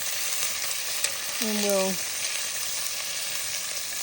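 Beef searing in a cast iron pan over a campfire gives a steady, close, loud sizzle that runs right through, with a brief spoken phrase partway in.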